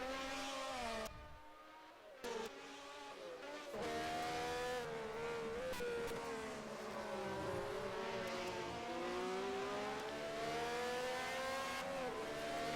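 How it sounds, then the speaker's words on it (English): A 1971 Matra Formula 1 engine screams around Monaco in a sim race, its high-pitched wail rising and falling through gear changes, with a brief drop-off early before the note climbs back and holds loud. "God, I love that Matra sound so much."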